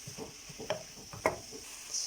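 Carrots and garlic cooking in a pan, a soft sizzle under a few quiet stirring scrapes and light knocks, faint and close.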